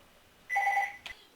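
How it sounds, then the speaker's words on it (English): A telephone rings once indoors, a short electronic bell-like trill of two steady tones followed by a brief click, loud against a quiet room with no talking. "Oh, there's the phone."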